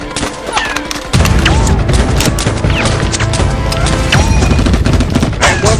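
Dense bursts of gunfire crackle and boom through an action-film firefight, a loud, continuous fusillade of rapid shots and thuds that kicks in after a brief quieter opening and keeps pounding to the end.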